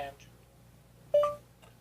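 An Android phone plays a short, clear Google Now voice-command activation tone of a couple of quick rising electronic notes, preceded by faint soft sounds against a quiet background.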